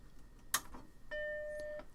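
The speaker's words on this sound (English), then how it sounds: "Got a chime." A Macintosh Plus powers on with a sharp click, then sounds its startup chime, a single clear tone held about three-quarters of a second, moderately loud in a quiet room.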